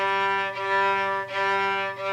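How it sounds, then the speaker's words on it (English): Beginner students at a school band and orchestra concert bow the open G string of their violins: a steady, sustained low tone with rich overtones, broken into about three long strokes by brief bow changes. "And can you play G?"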